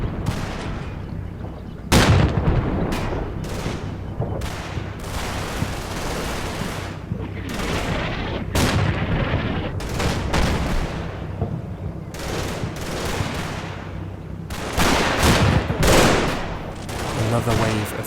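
A Combat Mission Normandy battle in France, 1944: a Wolverine tank destroyer against a Panther tank, with loud, repeated heavy gun reports and booms amid continuous small-arms and machine-gun fire.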